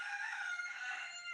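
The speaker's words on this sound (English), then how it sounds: "Yes, he's a real rooster." A pet rooster living indoors lets out one long, sustained crow, fairly loud and close, filling the whole moment with no talking.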